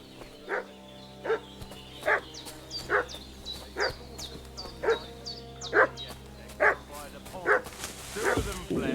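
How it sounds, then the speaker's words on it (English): Dog barking in a Kingdom Come: Deliverance II game scene, about ten sharp, evenly spaced barks from a medium-distance dog over a low ambient bed, with faint voices in the background. "What's that dog making such a fuss about?"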